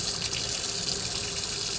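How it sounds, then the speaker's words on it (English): A sink faucet is opened during a water heater replacement, and water runs steadily into the basin in a loud, continuous close-up hiss with no pauses or voices. "Let's come over here to the sink, crank this thing on, and see if we get hot water coming out of this."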